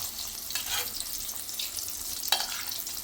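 Eggs frying in hot oil for egg tikka masala, a steady crackling sizzle with soft scraping stirs and a sharper clink near the end, no talking.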